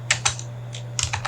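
Keys clack on a computer keyboard as a search query is typed, a few quick taps in two short bursts over a steady low hum, close and fairly quiet.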